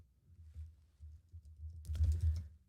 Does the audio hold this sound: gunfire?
no